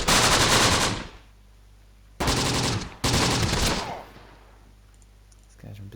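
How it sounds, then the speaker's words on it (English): Machine gun fire in the World War II video game Close Combat: The Bloody First arrives as three loud, close bursts, a long one followed by two shorter ones, with quiet gaps between them. "They're under very heavy fire."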